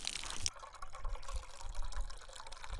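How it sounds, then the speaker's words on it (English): Water flowing into a water pot outdoors in Yellowstone National Park, a near, continuous gurgling and splashing stream for a few seconds. "Mom filling up the water pot"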